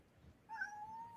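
A pet cat named Emma gives a single drawn-out meow indoors, faint and fairly close, rising and holding for about a second over quiet room hiss.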